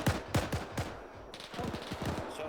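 Rapid bursts of automatic gunfire from a World War II video game set during Operation Gunnerside: sharp, loud shots in a quick run, a short lull, then a denser stretch of shots in the background.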